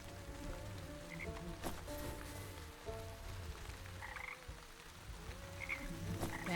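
Frogs croak repeatedly in the Wytchwood video game, a dense chorus of low rhythmic croaks over a steady bed of ambient rain-like noise, with occasional higher chirps.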